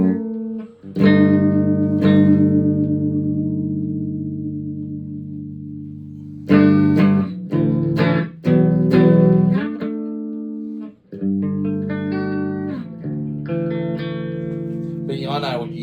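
An electric guitar's G string is plucked and tuned through a Behringer V-Tone amp, with sustained, ringing notes repeated several times and short pauses between them, close and fairly loud.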